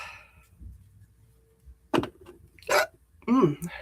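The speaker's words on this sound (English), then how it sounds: "There's that hiccup. I felt it coming." A person hiccups, with a few sharp, throaty bursts following some quiet talk at the start, heard up close.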